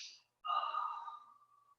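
A deep, audible inhalation during a guided breathing exercise, a single drawn-in breath lasting over a second, close and clear in a quiet room after a brief faint sound.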